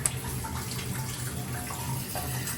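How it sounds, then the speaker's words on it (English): Shower water running out and draining down toward a basement sewer pump pit, a steady close rush and trickle of flowing water with no pauses and no talking. "There's where the water's coming out of the shower."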